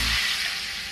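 Homemade stock poured into a hot pan of vegetarian mapo tofu sauce, a brief loud hiss and sizzle that quickly settles into a bright frying crackle.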